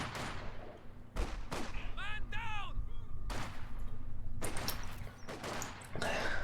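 Sharp sniper rifle shots ring out in a Company of Heroes 2 battle, several loud cracks spaced a second or two apart over a steady rumble of combat noise, with brief chirping effects between them.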